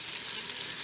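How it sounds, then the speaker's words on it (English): Oxtail sautés in an Instant Pot with a dense, steady sizzle and crackle, loud and continuous with no voices. "So I'm sauteing in here, and then I'm gonna pressure in here"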